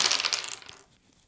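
Eight dice tumble and clatter together in the board game Pukeapocalypse, a quick bright rattle of several quick hits that settles and fades within about a second.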